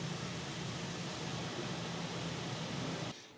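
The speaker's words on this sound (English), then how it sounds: "Echo, turn off the dehumidifier." A Govee smart dehumidifier hums with a steady, fairly loud broadband whir and low tonal drone, then cuts off abruptly near the end, leaving a quieter room.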